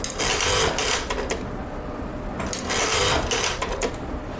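A Juki DDL 8000A single-needle industrial sewing machine runs in bursts, its rapid mechanical clatter starting and stopping close by, with no talk over it.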